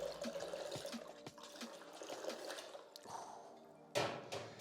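Liquid pouring from two bottles at once during a bar pour, a faint uneven trickle with light bottle knocks and a sharper splash near the end.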